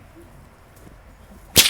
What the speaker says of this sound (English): I'm going to crack the whip upstage